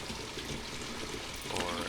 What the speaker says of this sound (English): I'm just gonna drink it all so I can fill up the water bottle for it